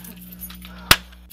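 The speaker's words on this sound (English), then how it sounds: "Where's my keys? My keys right here." A single bright jangle of keys being grabbed, sharp and close, rising briefly out of a quiet room with a low steady hum underneath.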